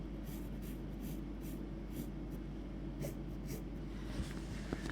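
A pen scratches across fabric as an embroidery petal outline is drawn, soft repeated strokes close and quiet over a steady low hum, with no talking.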